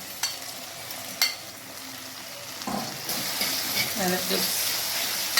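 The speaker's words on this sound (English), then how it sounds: "go ahead and add my red herrings to my pot right here" Red herring being fried in a pot with vegetables for a Jamaican-style dish, giving a steady sizzle with stirring clatter and a few sharp utensil knocks, while a person speaks briefly over it.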